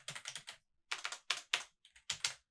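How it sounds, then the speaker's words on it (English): Someone types on a computer keyboard in bursts of quick clicking keystrokes, several clusters separated by short pauses, fairly close and clear with no talking. "You're going to hear me typing right now."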